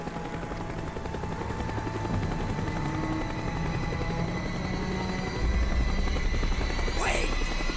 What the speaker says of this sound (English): The chopper is coming around again.